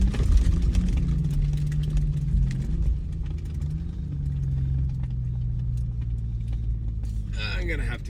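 A 2025 Ford Bronco Raptor engine rumbles steadily while driving the Silver Lake sand dunes, a low sustained drone with slight pitch shifts as it climbs and settles, close and loud throughout, with a short clatter near the end.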